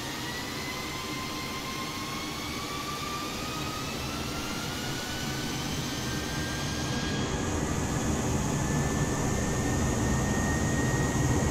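Airplane taking off from Queenstown, heard from inside the cabin as a steady, rising jet engine roar with whining tones sweeping upward, gradually growing louder.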